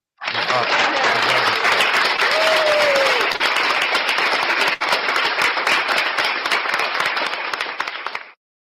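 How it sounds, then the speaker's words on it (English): A burst of crowd applause starts abruptly and runs evenly and loudly for about eight seconds, then cuts off cleanly, like an inserted applause effect. "I'm gonna applaud you for that."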